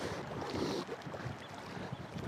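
Steady wind blowing across open water from a boat while fishing for zander, a broad rushing noise loud against the microphone with no talk.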